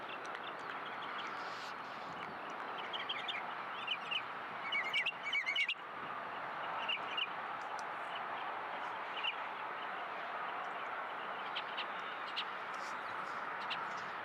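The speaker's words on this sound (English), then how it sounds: "plenty of bird life around, chirping away" Birds chirp and tweet steadily around an outdoor cricket ground under clear skies, with bright overlapping calls across a constant low hum of ambient noise.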